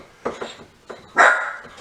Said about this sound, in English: that's my little doggy there